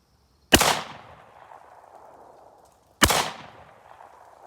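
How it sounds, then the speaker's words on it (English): Two loud blasts from a custom Ithaca double barrel shotgun, shortened to 24 inches and finished in black Cerakote, each a sharp close report with a long rumbling echo tail, spaced about two and a half seconds apart outdoors. "Next up is my custom Ithaca double barrel"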